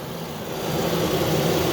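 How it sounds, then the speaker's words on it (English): The engine cooling fan on a 2013-model Nissan Pathfinder whirs as a steady, broad rushing hum up close, swelling slightly after the first moment and then holding even. "so the fan for the engine, you see that with the coolant is rotating and it's perfect"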